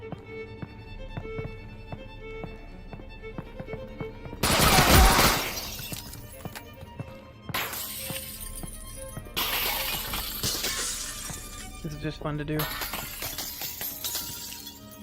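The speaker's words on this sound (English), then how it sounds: "you can't break the glass with your hands, even by punching through it" Glass shatters in a virtual reality shooting game, with one loud, close crash followed by several more bursts of breaking glass while a person talks.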